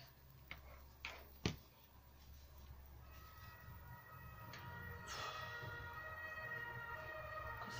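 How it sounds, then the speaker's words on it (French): Fire engine or police siren wailing along a city avenue, faint and distant behind a few sharp knocks and a low traffic rumble, with the rising tone becoming clearer toward the end. "Quand c'est pas les pompiers, c'est la police."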